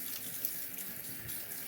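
A soft Arkansas sharpening stone is wetted under a running tap, a steady close rush of water splashing over the stone for the whole short moment, with no talking.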